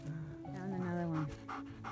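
Rapid panting from a dog on a forest trail, heard faintly under a person talking.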